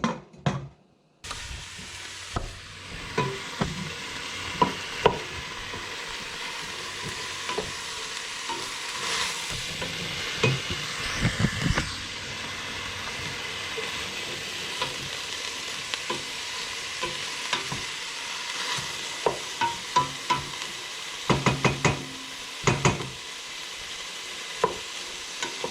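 Onion and celery sauté in a covered pan, a soft continuous sizzle with occasional clinks and stirring knocks, fairly quiet and steady throughout.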